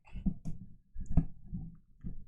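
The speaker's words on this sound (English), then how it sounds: "This is also office worker with long acrylics typing ASMR." Long acrylic nails tapping on a keyboard in close, quiet ASMR style, a few irregular clusters of soft clicks and clacks with brief pauses between.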